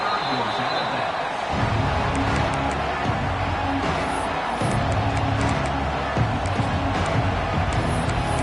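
Stadium crowd in a college football video game, Texas against SMU, cheering after a scoring drive: a broad, steady roar of many voices under a game commentator's talk.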